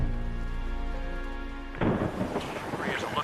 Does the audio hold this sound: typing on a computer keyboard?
no